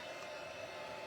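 A hair dryer blows steadily on the back of an embossed watercolor card, giving an even, continuous whirring hiss at low level with no talking.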